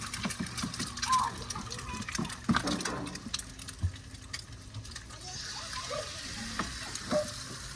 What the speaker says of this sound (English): we're going to crack the eggs right on the grill